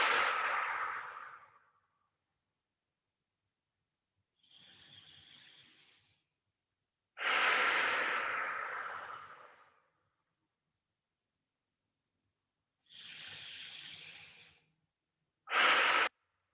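Slow deep breaths drawn in through the nose and released, each lasting a couple of seconds with long silent gaps between, close and soft, with no other sound around them.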